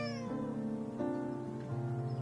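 A pet cat meows close by in a long, drawn-out, wavering call that shifts pitch twice, loud and clear with no talking over it.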